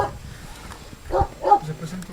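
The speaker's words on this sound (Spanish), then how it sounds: "Los perros viven en estas casuchas mal construidas alrededor de la cárcel" Dogs bark in short bursts around a prison in Bolivia where they live in poorly built shacks, a few moderately loud yelps standing out against faint background voices.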